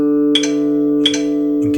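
Plucked D string on a Stratocaster during tuning: a steady ringing tone, re-plucked three times at roughly even intervals, close and clear with no voice.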